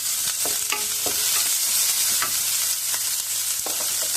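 Curry leaves sauté in hot oil for bitter gourd curry, crackling and sizzling up close while a spoon scrapes and stirs in a few irregular strokes, with no talking.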